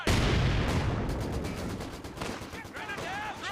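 Machine gun fire in the strategy game Company of Heroes 2: a loud opening blast, then a rapid, steady string of shots that fades, with a voice speaking briefly near the end.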